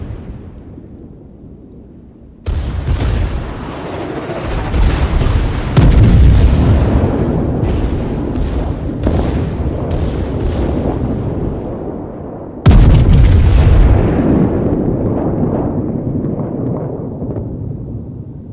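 Heavy naval guns from a USS West Virginia battleship boom in World of Warships, several big salvos rolling into long rumbling tails, the loudest hitting near the start and again two-thirds of the way through.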